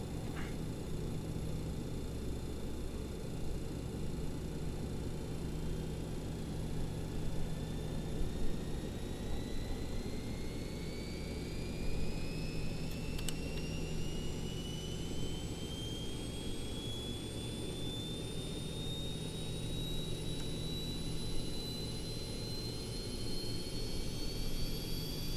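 BAE 146 jet engine number two spooling up in a flight simulator, a steady turbine roar with whining tones climbing slowly in pitch over about twenty-five seconds, continuous and alone.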